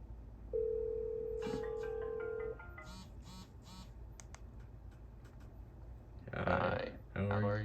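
A Cisco IP phone on a home FreePBX system gives a steady, loud dial tone for about two seconds, followed by a run of short call-progress beeps and tones, with a voice speaking briefly near the end.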